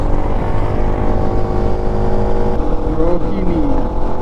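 Many vehicles rumble past on a busy highway near Delhi, a dense, steady roar of engines with a horn sounding briefly partway through.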